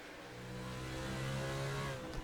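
A race car engine in NASCAR Racing 2003 drones steadily and faintly at Watkins Glen while the car reverses out of the gravel, a sustained mid-pitched hum building slightly with no talking.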